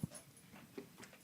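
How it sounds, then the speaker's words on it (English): An excited dog whimpers and gives a few short yips, fairly faint and close, in a quiet indoor room. "The dog is going crazy."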